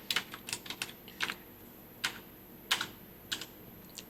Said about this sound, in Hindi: यहाँ पे टाइप करना है कैपिटल अकाउंट।